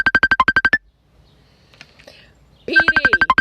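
A telephone rings in loud, regular electronic bursts, a quick series of identical pulses that stops briefly for faint background noise, then the ringing starts again alongside a brief voice.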